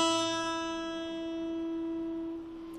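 A single guitar note on the thin high E string rings out clearly and alone, sustaining steadily with bright overtones before fading slightly at the end.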